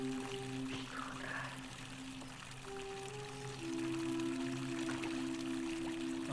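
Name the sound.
fountain water flowing in video game The Forgotten City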